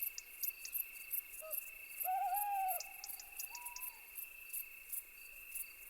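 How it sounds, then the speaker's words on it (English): An eagle owl hoots at night, a few deep calls carried over a steady high chirring of crickets and insects, fairly faint in the darkness. "The eagle owl is Europe's biggest nocturnal raptor."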